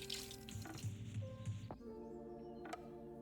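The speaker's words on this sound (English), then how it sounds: "Let me rinse my fingers off." Tap water runs steadily while fingers are rinsed off during pie baking, a soft broadband hiss that cuts off partway through, with background music underneath.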